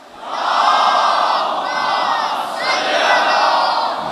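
A mosque congregation loudly chants salawat together in unison, a dense wall of many voices rising in two sustained swells that fill the space.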